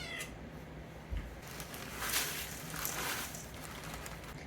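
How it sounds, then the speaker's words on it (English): A pet cat meows faintly in a home kitchen, a few soft calls scattered across a quiet background with light room noise. "Hey, kitty cat, get down"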